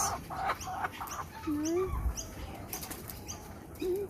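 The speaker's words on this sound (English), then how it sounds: "Currawongs." Wild Australian currawongs call with rising whistled notes near a backyard feeding spot, with flapping wings and rustling around them, and a person speaks briefly.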